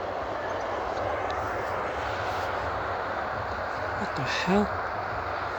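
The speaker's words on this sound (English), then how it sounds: "Oh, it's a drone." A drone flies over a foggy hillside near Stonehenge at dawn, making a steady broad engine-like drone throughout, with a brief voiced exclamation near the end.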